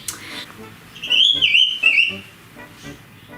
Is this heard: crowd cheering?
no